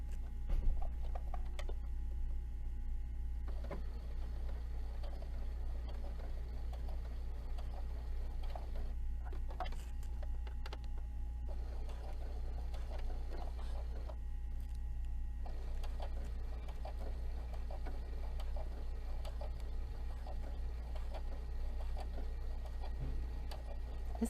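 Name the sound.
small sewing machine stitching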